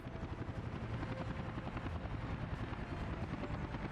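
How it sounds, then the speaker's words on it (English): Rotor chop from a passenger helicopter in Workers & Resources: Soviet Republic carries on steadily as a dense rhythmic thudding over a broad engine roar, close and fairly loud, with no voices. "We didn't spend a lot of time with the passenger choppers earlier."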